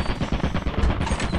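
An automated turret in the video game Lethal Company fires a rapid, loud, continuous stream of gunshots in a short burst.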